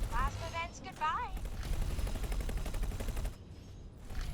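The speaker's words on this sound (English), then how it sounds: "Them shard turrets are hitting me." Shard turrets fire during space combat in X4: Foundations, a steady crackling barrage of rapid impacts and shots running beneath a man's speech, dropping out briefly near the end before resuming.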